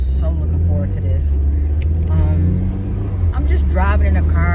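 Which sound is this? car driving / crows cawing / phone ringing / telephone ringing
car driving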